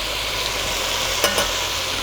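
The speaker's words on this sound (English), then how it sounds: "So now I'm gonna go ahead and throw in the garlic." Garlic going into a pan of sizzling bell peppers and onions, a steady close frying hiss with a couple of sharper scraping clicks as the food is stirred.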